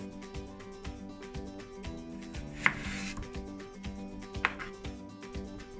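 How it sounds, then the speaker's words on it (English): Knife chopping peeled potatoes into small cubes on a board, a steady run of close, regular cutting taps with two louder knocks partway through, no talking. "And now I'm going to chop them into just some small cubes."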